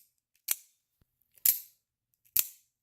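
A Rumble black double-action OTF automatic dagger knife fires three times via its trigger, each a sharp metallic snap with a brief ringing tail, spaced about a second apart in quiet surroundings.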